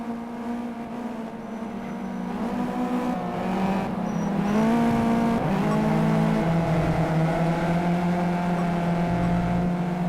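Race cars roaring down the straight in a race, a loud sustained engine drone with rising and shifting pitch as they accelerate past, continuous and close.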